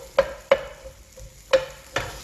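Vegetables for hwayangjeok, a Korean skewered dish, stir-fry separately side by side in a pan: four ringing clanks of a utensil striking the pan sound over a faint background sizzle.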